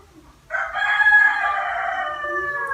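A rooster crows close by and loud, one long drawn-out call that rises sharply and holds steady to the end.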